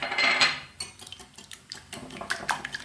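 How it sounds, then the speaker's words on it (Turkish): A fork beats three eggs with a teaspoon of salt in a bowl, giving a rapid run of clinking taps against the bowl's sides, close and fairly bright, with short pauses between strokes. "3 adet yumurtamı 1 çay kaşığı tuzla çırpıyorum arkadaşlar"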